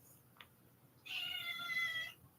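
A cat lets out a single faint meow lasting about a second, preceded by a brief soft click, in an otherwise quiet room.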